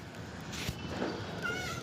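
A multicoloured, mostly white cat at a railway station gives a short meow over steady background noise, faint to moderate and heard once.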